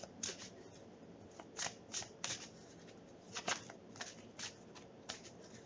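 Tarot cards being shuffled, soft riffling flutters and light snaps repeating in quick bursts, faint and close, with no talking.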